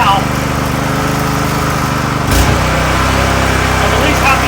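A California Trimmer 20-inch reel mower's small gasoline engine runs at full throttle, a loud, steady buzzing drone with a brief bump in the middle, close by and continuous.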